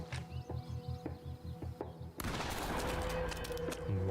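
Gunfire in The Quarry, a horror video game: a dense, loud burst of overlapping shots kicks in partway through and keeps going, after a quieter run of rhythmic pulses.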